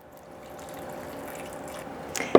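Water is poured into a blender jar with soup ingredients, a rising liquid trickle and splash that builds steadily and ends in a sharp clunk, with no voices.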